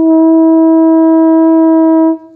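A B flat French horn plays high B flat on the first valve as one loud, clean sustained note of about two seconds, then stops, played solo.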